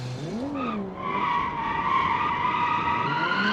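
A 1970s Japanese sports car in US-market trim drifts in BeamNG, its tires letting out a loud, sustained squeal that bends in pitch at first and then holds steady under the engine.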